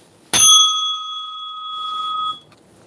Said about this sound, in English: The bell, baby.